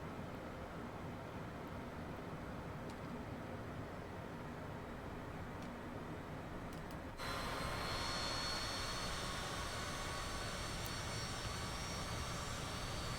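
Private jet engine in Microsoft Flight Simulator 2024 at night, a steady broadband roar that jumps suddenly louder and brighter partway through, then holds constant, with no voices.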